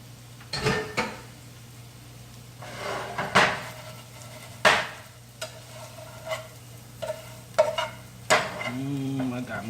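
Potatoes fry in bacon fat with a steady low sizzle, broken by irregular scrapes and clatters of a utensil stirring and turning them in the pan. No one speaks.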